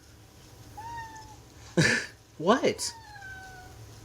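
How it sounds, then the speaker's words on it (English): A pet cat meows twice, fairly close, with a thin drawn-out tone at first and then two louder, sharper calls; a person briefly speaks between them over a low background hum. "my cat's being goofy"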